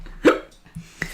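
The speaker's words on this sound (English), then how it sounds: "Got horrendous hiccups now at the end of this game." Hiccups during the end of an England vs North Macedonia football match, with two or three sharp, close hiccup sounds in quick succession.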